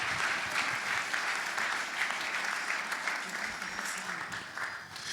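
A church audience at a Geneva revival night applauds loudly and steadily for Jesus, with dense sustained clapping from a large crowd and a voice speaking over it.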